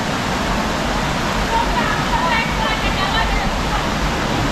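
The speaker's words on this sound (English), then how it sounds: "You can jump right to the water, cascading." River water cascades in a loud, steady broadband rush close by, a constant roar with no breaks, while a voice talks faintly beneath it.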